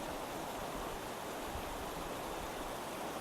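Clear water of a mountain brook flows in a constant, hissing wash, steady and unbroken from start to finish, with nobody speaking.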